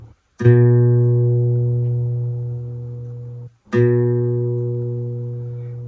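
A guitar's A string is plucked twice, each note ringing out and slowly decaying for about three seconds, clear and close with no talking.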